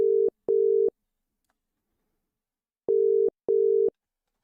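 Telephone ringing tone on a call to a friend: two pairs of steady double-burst rings, clear and alone, separated by a long pause of silence.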